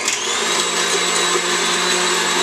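Hand mixer beating softened cream cheese, a steady close motor whine that holds even throughout with slight wobbles in pitch as the beaters work, no talking.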